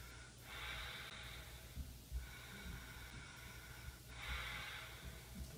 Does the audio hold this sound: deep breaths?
yes